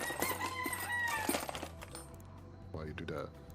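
Clucking and crowing from a white rooster in a video game, mixed with game sounds and talk throughout, with a louder burst of clucks near the end.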